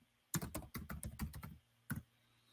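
Fingers type on a computer keyboard in a quick burst of about a dozen close, crisp clicks, a short pause, then one last pair of keystrokes, with a faint hum beneath and no talk.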